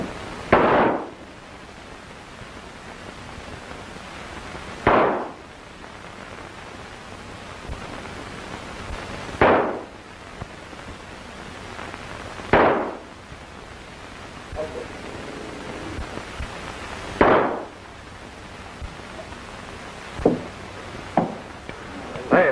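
Gunshots ring out in a western saloon shootout, six or seven sharp, loud reports spaced a few seconds apart, each followed by a short echoing decay over a quiet room.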